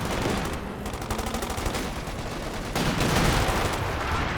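Anti-tank guns in Company of Heroes 2 fire in a dense, continuous barrage of overlapping blasts and battle noise, loud throughout with a heavier surge near the end.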